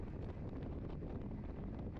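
A headwind buffets the microphone during a cycling race, a steady dense roar of low rumble and gusty noise lasting the whole two seconds with no voices.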